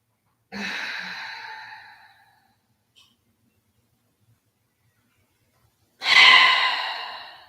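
Slow, deep breathing in a yoga pose, heard as two long exhales several seconds apart with quiet between them, close to the listener and with no talking.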